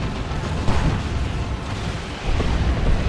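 Rapid barrage of Tank Buster explosions from a Space Marines versus Orks battle in Dawn of War 2, a dense, loud, continuous rumble of booms with a sharper burst near the start and another surge toward the end.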